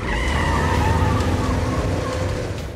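A car speeds away on a road, its engine loud and close with a steady roar and faint tire squeal carrying over the whole stretch.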